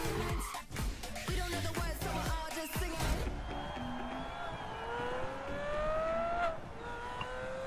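Racing cars roar through a video game trailer, first amid busy cuts of music and effects, then as engines rev and climb in pitch while vehicles pass and accelerate, loud and continuous.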